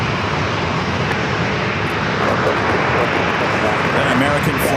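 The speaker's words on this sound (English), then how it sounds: "American flights touching down on runway 27, coming in from Phoenix, Arizona, A321" An American Airlines A321 from Phoenix touching down on runway 27 at San Diego airport: a loud, steady aircraft engine roar, broadband and continuous throughout.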